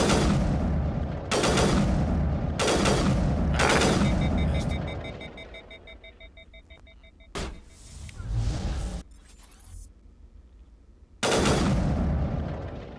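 Bursts of gunfire in the Mass Effect video game come in loud, sustained volleys, several heavy rounds in a row with brief gaps, ending in another burst.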